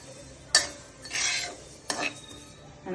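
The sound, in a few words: stirring ingredients frying in a pan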